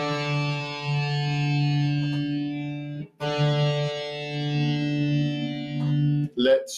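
A guitar's D string is plucked twice during tuning; each pluck rings as a long, sustained tone, colored by a chorus-like effect, and a brief scrape follows at the end.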